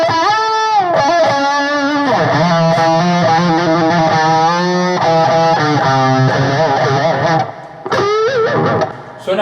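A Guitar Hero controller rebuilt into a real electric guitar, tuned to drop C, plays a loud, continuous distorted riff of sustained chords and bends. A brief dip near the end breaks the run before it resumes.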